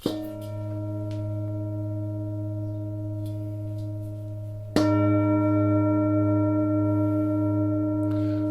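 Deep metal singing bowl tuned to G sharp 2, 104 Hz, struck twice, each strike blooming into a long, steady low hum with shimmering overtones that slowly fade.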